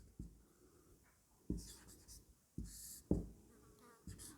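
Pen scratching on paper in short bursts, four or five distinct strokes of handwriting separated by pauses, close and quiet with no talking.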